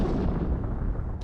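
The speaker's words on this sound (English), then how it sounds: "There's been an explosion." Video game explosion, a dense low rumbling blast that roars steadily for about a second without letting up, loud and heavy, with no voices over it.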